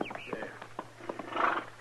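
A horse moving and giving a short neigh in a 1950s western radio drama, close and brief, with hoof sounds under a voice.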